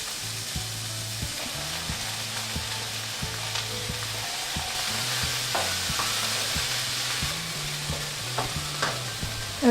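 Peppers added to golden onions sizzle steadily in a pan, with regular scraping stirs of a utensil knocking against the pan throughout and no voices.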